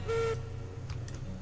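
A locomotive whistle sounds once, short and fairly clear, in the train game Railroads Online, followed by quiet low rumble with no talking.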